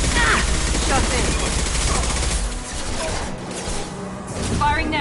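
Heavy automatic gunfire in Mass Effect 2 on PS5, a loud, dense volley up close with crashes and whooshes, easing off midway before flaring again, with a voice speaking over it.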